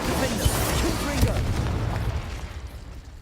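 The Confringo blast spell fires in Hogwarts Legacy on PS4, giving two deep, punchy booms a second apart over a dense, rumbling game soundscape that slowly fades.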